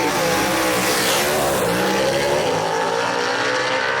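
A gasser drag race car at a Southeast Gassers event in Knoxville roars loudly and steadily down the strip, its engine note sweeping as it passes close by, with no voices heard.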